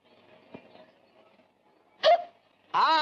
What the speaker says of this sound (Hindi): हिचकी आ गई यार